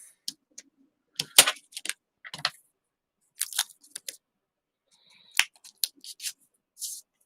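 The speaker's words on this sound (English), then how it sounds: "And then I trimmed it off." Scissors snip and trim the paper of a gift bag in a quiet room, giving a series of sharp, close crisp cuts in irregular bursts with short pauses between them.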